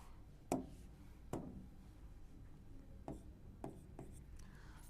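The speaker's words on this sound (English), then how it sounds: "This is your Hamiltonian operator. I am writing it here, just wait." Chalk or marker tapping and scratching on a board during a chemistry lesson, as a Hamiltonian operator is written out: several sharp, separate strokes at uneven intervals, faint and close, with no talking.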